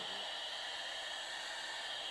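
A vacuum cleaner runs aboard the Space Shuttle. Its steady, faint airy hum and hiss continues unbroken with no other sounds.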